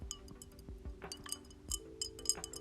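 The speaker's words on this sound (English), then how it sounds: "I've got my drink. Clink, clink." Drink glasses clinking, a series of small bright taps and chimes scattered irregularly over a faint background, fairly quiet and close, with no talk.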